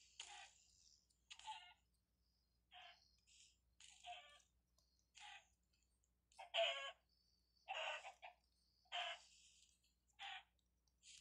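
Chickens cluck in a Minecraft-style video game mod, short bright squawks and clucks repeating in irregular bursts with gaps of quiet, faint and with no talking.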